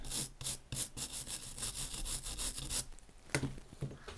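A small bristle brush scrubs a HobbyWing XD10 Pro ESC circuit board in quick, close back-and-forth strokes, a dry rhythmic scratching that pauses briefly before a few final strokes.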